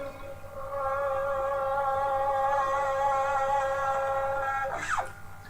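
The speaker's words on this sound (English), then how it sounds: "plays the 6th fret on the G string, vibrates it, and just fades that in with his volume control." A single sustained electric guitar note, fretted at the 6th fret on the G string, swells in with the volume control and wavers with vibrato, ending in a quick bend or slide near the end; no talk.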